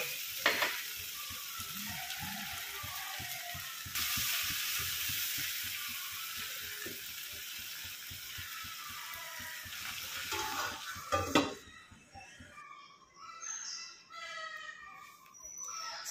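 Okra masala sizzling and being stirred in a black clay pot, a continuous crackling fry with repeated scraping strokes, the sizzle fading after about twelve seconds into quieter clinks and handling.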